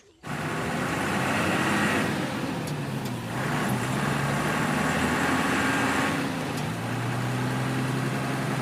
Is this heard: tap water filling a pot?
no